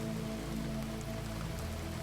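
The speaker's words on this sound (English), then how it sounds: "rain now coming down in sheets that obscured the street lamps" Heavy rain pours down steadily in a dense, unbroken hiss during a storm, a constant wash of drops on surfaces with a low rumbling undertone, with no voices over it.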